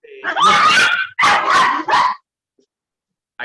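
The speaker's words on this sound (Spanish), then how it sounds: "ahí están hablando ya los perros" Dogs barking loud and close in a burst of several drawn-out, yelping barks, followed by a pause and then another bark that starts just as the burst ends.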